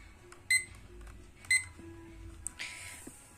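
A timer being set for a two-hour mock test gives two short, sharp electronic beeps about a second apart, followed by fainter tones and a brief soft rustle.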